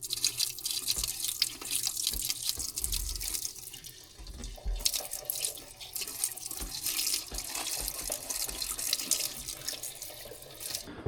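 Liquid, with diesel poured in, gushes and splashes as it flushes milky old oil out of a flying scraper machine, a loud continuous sloshing with sputtering bursts.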